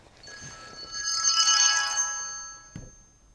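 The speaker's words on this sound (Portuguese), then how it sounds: "Espera aí, está a tocar o meu telemóvel" A mobile phone ringtone sounds once, a bright synthetic melody swelling and fading, followed by a short thump.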